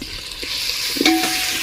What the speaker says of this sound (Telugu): కొంచెం ధనియాల పొడి, అడుగంటకుండా మంచిగా మిక్స్ చేసుకోండి